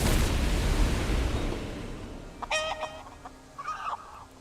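In a fantasy video game, a chicken clucks a few times in quick bursts right after a loud whooshing spell blast fades out.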